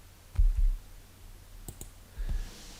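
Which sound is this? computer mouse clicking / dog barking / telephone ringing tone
computer mouse clicking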